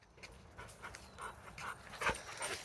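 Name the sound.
dog Dodger panting on a walk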